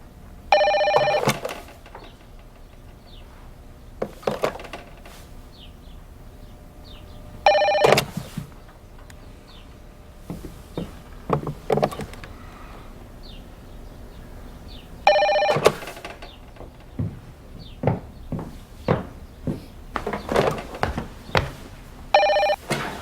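A telephone rings in repeated bursts spaced several seconds apart, fairly close and clear, with quieter knocks and movement sounds between the rings.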